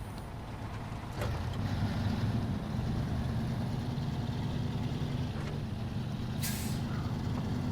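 Heavy Fleet Star truck diesel engine in SnowRunner, fitted with proper tires and hauling a heavy load, starts up and settles into a steady, loud rumbling drone, with a brief hiss of air partway through.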